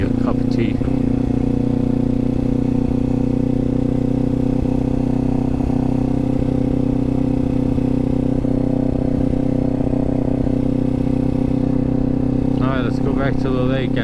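Kawasaki Z400 motorcycle engine droning steadily and loud throughout a ride, a constant mid-low hum with slight rises in revs, wind rush underneath and brief mechanical clatter near the end.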